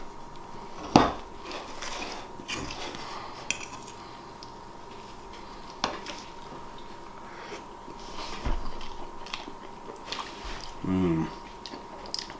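Utensils clink and scrape on a plate of pumpkin pancakes with sugar-free maple syrup, a few sharp taps and soft chewing amid quiet room noise, with brief talk nearby.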